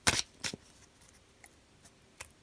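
A deck of tarot cards is cut by hand, giving a few crisp papery snaps and flicks: two clear ones at the start, then fainter light ticks spread over a couple of seconds, close and quiet.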